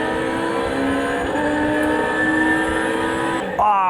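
Racing engine of an F1 car in a racing simulator video game, a steady high whine holding pitch, then a quick shift upward near the end, loud and continuous with no talk over it.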